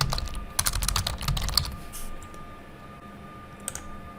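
Typing on a computer keyboard, quick bursts of close clicking keystrokes at the start, then a pause and a few scattered key presses near the end, with no talking.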